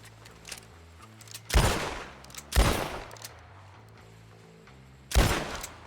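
Gunfire in a video game: three heavy, loud shots ring out at well-spaced intervals over a low, steady musical backdrop, each blast decaying with a short tail.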